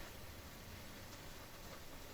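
A loud computer fan gives a constant, even broadband whoosh with no change in level and no talking over it.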